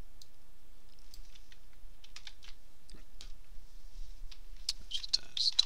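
Keystrokes on a computer keyboard while commands go into a Linux terminal, a quiet run of light clicks and taps with a few brighter chirpy sounds near the end.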